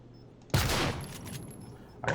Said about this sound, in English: I can also just shoot the screen.